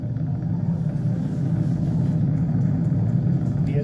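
Falcon 9 rocket engines rumbling during a SpaceX launch on 5/30/2020, throttled down ahead of maximum dynamic pressure. A loud, steady, dense low roar continues without a break and fills the whole stretch, with no talking.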